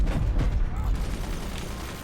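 Weapons firing in the Forts strategy game, a loud dense barrage of booms and rumbling blasts that fades slightly, with a voice talking over it.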